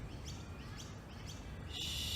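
Birds chirping outdoors, a few faint, repeated high tweets over a steady background hiss, with a sharper, brighter call near the end.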